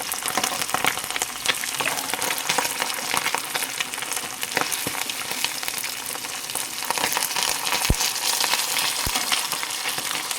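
Fish frying in hot oil, a steady dense sizzle that crackles continuously with a few sharp pops, close and loud throughout with no talk.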